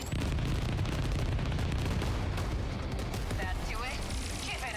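Multi-lock missiles fire in the video game 13 Sentinels: Aegis Rim, a dense, continuous roar of launches and blasts rolling together loudly for several seconds without a break.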